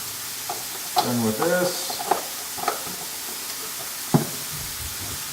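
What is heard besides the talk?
sausages frying in a pan for gumbo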